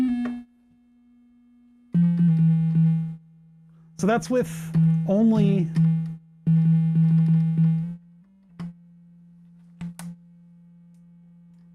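A cheap AliExpress theremin holds a buzzy, steady, fairly loud low tone in several long stretches, with short pitch wobbles and clicks between them; someone speaks briefly over it.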